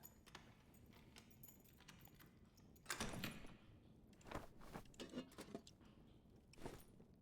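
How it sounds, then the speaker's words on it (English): Bony skeleton mob footsteps in the dungeon game Dark and Darker: faint, irregular clattering steps with a few sharper knocks, quiet and somewhat distant, no talking. "it sounds very bony in terms of like the footsteps"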